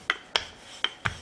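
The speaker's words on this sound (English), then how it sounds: "let's roll it out again" Oil-free, salt-free sweet potato flatbread dough is rolled out on a kitchen counter, making four short, soft rubbing scrapes spaced unevenly across about a second.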